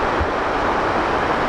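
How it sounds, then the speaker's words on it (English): Ocean waves rolling along a sunny beach on Scotland's north coast, a steady, dense wash of surf with a windy edge, continuous and fairly loud with no distinct breaks. "The ocean rolling along the beach with the sun"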